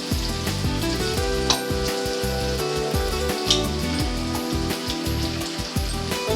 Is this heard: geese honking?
no